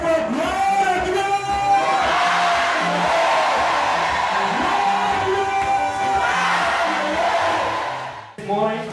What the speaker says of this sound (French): crie très fort, gloire à Dieu